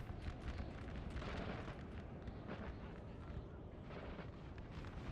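Continuous artillery fire rumbles through a video game battle between Imperial Guard and line infantry, a dense, steady wash of booms and bursts with no clear gaps.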